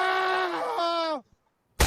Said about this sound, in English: I think I got a Wilhelm scream somewhere if I can find it real fast.